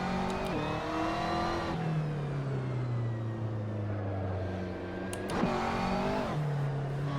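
Car engine in a racing video game driven with a Fanatec Clubsport Wheel V2.5, a steady droning engine note that rises and falls through gear changes, with a long smooth pitch sweep in the middle.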